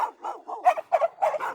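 Several sharp dog barks come in quick succession, loud and close, with a slightly rough yappy quality and short gaps between them, and no other sound around them.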